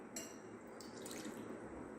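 Milk poured from a bowl into a pan for masala milk, a brief soft liquid splash and trickle close by, with no talking.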